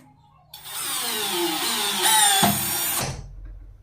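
A brushless cordless drill revs up sharply, whines steadily while driving a screw in, dips briefly in pitch under load, then winds down and stops, loud and close with no talking.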